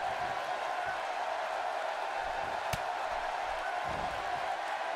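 Steady crowd roar from a wrestling arena in WWE 2K18, continuous and moderately loud, with a single sharp impact in the middle.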